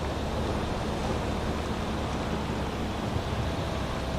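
Ocean waves wash steadily around a sailing boat in a video game, a soft, continuous surf and wind hiss with no talking and no distinct breaks.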